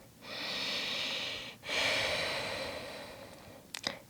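Two long, deep breaths during a yoga session, a slow airy inhale followed by a sustained exhale, close and soft, ending with a small sniff.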